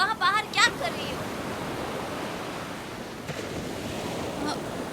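Steady water washing and splashing fills the scene outdoors by water on a hot day, a constant broad rush with brief high chirps of voices or birds at the start.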